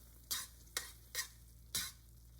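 Butter and cheese being stirred into a tomato pasta sauce in a pan: four soft, evenly spaced scraping swirls over a low simmering hiss, close and quiet, with no voices.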